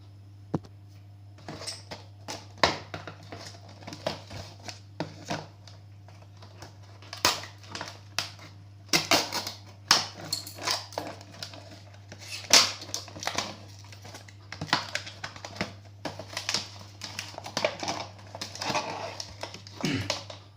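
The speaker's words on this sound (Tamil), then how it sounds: "இப்போ தான் நான் இந்த பேனாவை ஓப்பன் பண்ண போகிறேன்." Cardboard and plastic packaging of a Parker pen being opened by hand: irregular crinkles, crunches and sharp taps at close range, bursting in uneven clusters over a low steady hum, with no talk.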